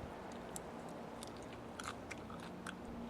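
Close, quiet chewing of crunchy, fleshy Surinam spinach leaves, with soft moist mastication and a few sharp crisp crunches scattered through, no talking.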